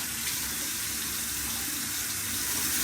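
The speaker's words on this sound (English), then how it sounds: "So I would get my infant's hands wet," Water runs steadily from a sink faucet in a home child care setting while an infant's hands are being washed, a continuous close splashing hiss with no talking.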